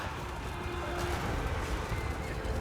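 Kurgan horses of the Norsca army gallop in a Total War: Warhammer 3 battle, a steady, dense rumble of hooves running throughout.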